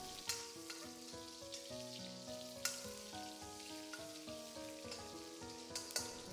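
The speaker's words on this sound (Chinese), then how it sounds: "油热以后把切好的蒜子、豆豉全部下锅煸炒出香味" Chopped garlic and fermented black beans sizzle and crackle as they are stir-fried in hot oil in a cleaned wok, a steady fry with soft stirring scrapes under quiet background music.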